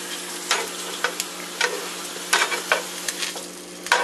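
French toast frying in a hot pan gives a continuous close sizzle, broken by sharp pops and crackles every half second or so, with no talking.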